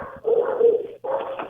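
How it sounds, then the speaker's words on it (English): A dog gives two close, loud barks in quick succession, the first drawn out and the second shorter, with no other sound around them. "Dude, you need to get rid of that dog, dude."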